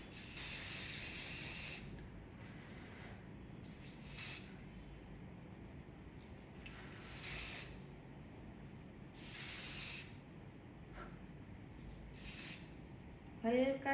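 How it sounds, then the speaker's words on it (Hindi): A spray bottle gives a light misting in a series of separate short hissing bursts, about two seconds at first and then briefer, spaced a few seconds apart, close by, with quiet pauses and some faint speech in between. "हल्का सा स्प्रे करेंगे"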